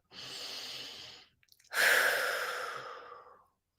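Two long, audible breaths: a full, airy inhale followed after a short pause by a longer, slowly fading exhale, close and clear with no talking.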